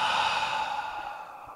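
A single slow, breathy exhale during mindful breathing practice, close and soft, fading out gently with no speech.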